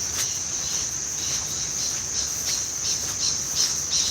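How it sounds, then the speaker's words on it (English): A grasshopper in a muddy, flooded area gives a steady high chirring that runs throughout, close and fairly loud, with faint rhythmic pulses and no talking. "I think it's just a grasshopper."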